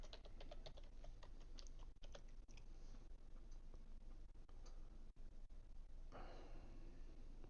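A computer keyboard clacks during a Windows 11 install, a rapid run of light key taps that thins out into sparse isolated clicks, close but quiet, no talking.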